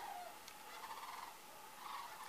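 A bird calls outdoors with a steady, nasal, gobbling warble that repeats through the moment, fairly faint and at a distance, with no voices over it.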